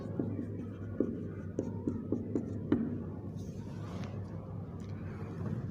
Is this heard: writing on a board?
yes